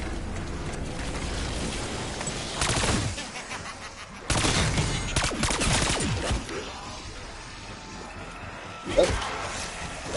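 Bursts of LC10 automatic fire in Black Ops 6 Zombies, two dense volleys of rapid shots with mechanical clatter, loud and close, under faint talk.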